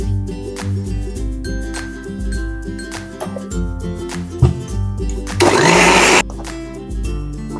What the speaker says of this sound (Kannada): ಟೊಮೆಟೊ ಗ್ರೈಂಡ್ ಮಾಡ್ಕೊಳ್ಳೋಣ.